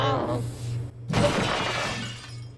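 In a Poppy Playtime Chapter 5 stairwell, a sudden loud shatter of breaking glass bursts out and rings down after a distorted voice recording plays.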